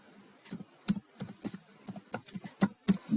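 Keys click on a computer keyboard while form fields are filled in, a quick irregular run of light taps with short pauses, close and fairly quiet, with no voices.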